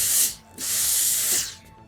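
A steam iron shaping a fabric bias roll for a curved rolled hem lets out two close, breathy bursts of hissing steam separated by a short pause.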